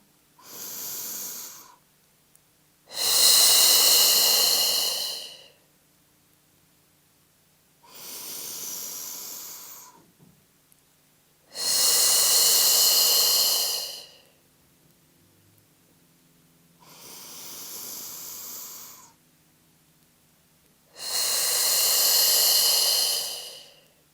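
Slow, deep breaths during a relaxation breathing exercise, three full cycles of a softer inhale followed by a longer, louder airy exhale, close to the microphone with quiet pauses between.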